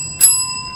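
A single bright ring from a game show buzzer bell being tested, a sharp metallic ding with a clear sustained tone that fades quickly.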